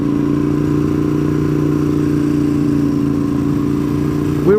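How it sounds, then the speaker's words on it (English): Several Harley-Davidson motorcycles being overtaken on the road to Deals Gap, their engines a steady, loud low rumble with layered harmonic drone throughout, rising slightly at the very end. "Sometimes it's hard passing a group of Harleys."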